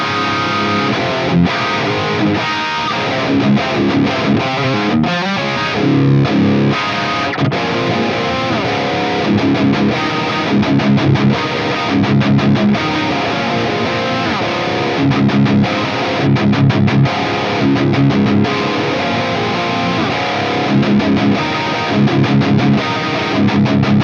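A distorted electric guitar played through a Friedman amp plugin into a Mega Gent speaker, chugging riffs and sustained chords with a thick, crunchy tone at steady loud level, alone without talk for the whole stretch.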